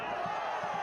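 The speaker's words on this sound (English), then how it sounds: "You can hear the appeals from the home crowd." Home crowd at a Pittsburgh Riverhounds versus Oakland Roots soccer match, a steady wash of distant stadium voices with brief swelling shouts of appeal rising over the broad murmur.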